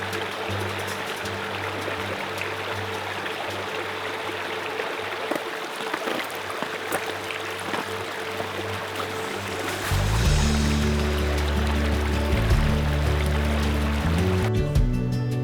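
A brook flowing beside a hiking trail in the White Mountains of New Hampshire, a steady close rushing babble of water that continues throughout, with a low rumble joining in later, and no talking.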